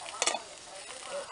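Nilarang na isda, a Filipino fish stew, simmering in a pot with a steady soft bubbling hiss and one brief louder burst near the start.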